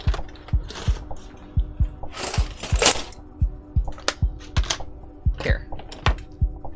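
Close metallic clicks and ratcheting taps of a green wrench tightening a part on a 3D printer, a steady rapid series of sharp ticks with louder bursts of mechanical rattling mixed in.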